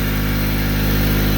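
A 2006 Ford Freestyle engine idles close by with a steady, even low rumble and a regular pulse that does not change for the short stretch.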